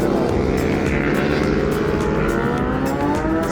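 A drone flies overhead with a loud, steady propeller whine and buzzing drone that holds evenly throughout, close and without talk.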